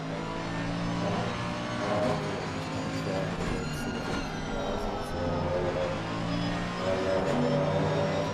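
Several GT3 race cars in Assetto Corsa Competizione drone steadily together in a pro sprint race final, a dense layered engine roar with rising and falling pitch sweeps as cars accelerate past, continuous and fairly loud with no talk.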